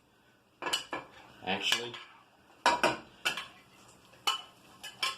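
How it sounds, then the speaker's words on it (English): A slotted spoon clinks and scrapes against a metal stock pot while roasted tomatoes are scooped in for homemade marinara, several sharp metallic knocks in irregular bursts with a brief word of talk. "take a slotted spoon, put that in your stock pot"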